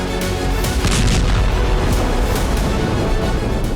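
Heavy, sustained booming from Russian FAB aerial bombs striking Mirnograd in Donetsk, Ukraine, a loud continuous roar of blasts with repeated deep thuds layered over dense rumbling.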